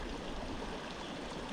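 A tiny high-country mountain creek flows steadily nearby, a continuous close rush and gurgle of water over stones with no talk.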